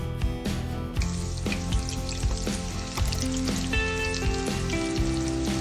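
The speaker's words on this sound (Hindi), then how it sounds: "कुकिंग ऑयल गरम करेंगे पैन में और एक एक करके श्रिम्प इसमें डालते जाएंगे" Shrimp frying one by one in hot cooking oil in a pan over medium heat, a steady close sizzle with periodic louder bursts as pieces are added, no voices.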